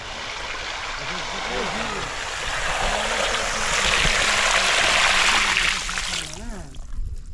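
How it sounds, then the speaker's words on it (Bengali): Pond water poured in a steady splashing stream onto a rice seedbed field, loud and close, swelling in the middle before tapering off, with a voice talking over it throughout. "সেগুলোতে জল দেওয়ার জন্য জল পুকুর থেকে নিতে হচ্ছে, তারপরে এইভাবে নিয়ে তারপরে দিতে হচ্ছে জমিতে।"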